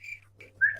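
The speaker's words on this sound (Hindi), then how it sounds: "किसी ने मुझे सीटी मारी?" Someone whistles a few short, clear tones, alone with no talk, ending on a louder rising whistle.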